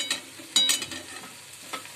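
Drumstick leaves bhaji being stirred in a pan, with soft scraping and tapping strokes at an uneven rhythm over a light sizzle, close and fairly quiet.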